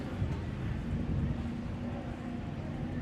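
Super Cat class race boats run on open water during qualifying at the Great Lakes Grand Prix, a steady broad engine and hull roar with wind buffeting the microphone, continuous and fairly loud throughout.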